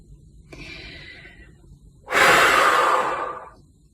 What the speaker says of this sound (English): Taking a deep breath